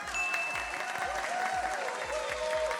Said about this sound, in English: Can we please have a massive round of applause for not only Frankie, but Frankie's fantastic creator, Devon